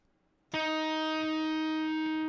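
A single distorted electric guitar note, tapped at the 15th fret, bursts in sharply after a moment of quiet and rings out loud and sustained with a steady, buzzing harmonic tone.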